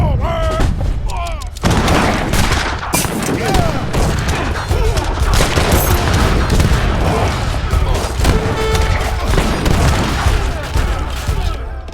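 Musket volleys crackle in dense, overlapping bursts from an Age of Empires III battle as an early attack hits an enemy town, with booms and clashes filling the whole stretch without letup.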